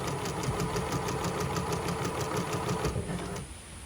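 A sewing machine runs a slight stretch stitch through layered fabric while making panties, a fast, steady mechanical whir with rapid needle ticks that stops near the end, no voices.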